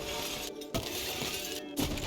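Glass and objects shattering in a rage room in the Bonelab VR game, two or three sharp crashing breaks with tinkling debris over steady background noise.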